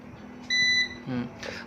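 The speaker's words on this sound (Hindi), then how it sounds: "और आप देख सकते हैं ये बीप भी करने लग गया, हर 10 सेकंड में ये बीप करेगा" A Microtek Legend 650 UPS running on battery power gives a single short electronic beep, close and clear, amid quiet background noise.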